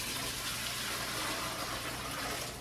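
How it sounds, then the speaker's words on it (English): Water pours steadily into a water bath canner, a continuous broadband rush without pause, close and fairly loud. "we're gonna go ahead and get water in our water bath canner and get that started heating up"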